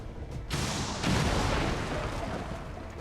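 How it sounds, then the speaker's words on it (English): Rocket launcher firing and exploding in a video game: a sudden loud blast kicks in about half a second in, then a sustained booming rumble swells and rolls on to the end, close and dense. "We're trying the rocket launcher."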